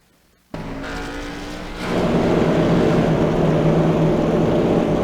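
Stock cars, Chevrolets among them, pace under caution at Bristol Motor Speedway. A steady engine drone starts abruptly and swells louder partway through, a continuous close rumble with no voices.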